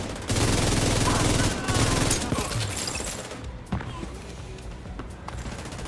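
Rapid loud automatic gunfire in The Division 2 bursts for about three seconds, then fades into quieter combat ambience with a few isolated thuds and clicks.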